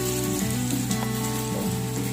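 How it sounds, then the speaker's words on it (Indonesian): Pempek kapal selam fish cakes frying in hot oil, a loud continuous sizzle and bubbling close up, with a steady hum running underneath and no voices. "Terus nih pempeknya aku goreng pempek kapal selam."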